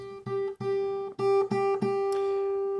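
A clean guitar note on the high E string, fretted just behind the fret, is plucked repeatedly, about six times in a row, each ringing clearly, the last one left to sustain.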